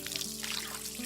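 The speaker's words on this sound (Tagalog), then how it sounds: "Patayin mo nga yung gripo. Kanina pa yan umaawas." Water from a running faucet overflowing a tub, a faint continuous trickling pour with a low steady hum beneath it.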